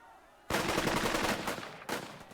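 A squad opens fire in the World War II tactics game Burden of Command, a sudden loud burst of rifle and machine-gun volleys that runs for over a second, eases off, then resumes with a sharp second burst.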